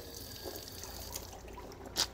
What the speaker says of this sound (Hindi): हमने हाथ धो ली, अब कुली करनी है